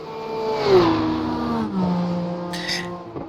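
A race car at the Nurburgring in a sim racing league event howls through its gears, the engine note sweeping down under braking then climbing again, with a brief burst of tire squeal near the end.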